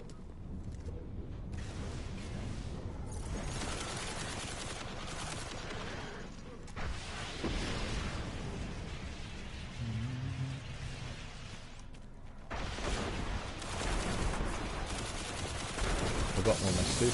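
Rapid bursts of gunfire from the Banshee weapon in the PS4 shooter Destiny crackle in repeated volleys amid dense game noise and explosions, with a few brief pauses between bursts.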